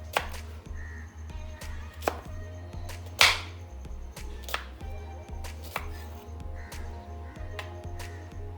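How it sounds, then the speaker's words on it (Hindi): A knife slices a cucumber on a cutting board, giving a series of sharp, irregular taps and chops at close range over a faint background hum. "सबसे पहले खीरे की कटिंग कर लेते हैं।"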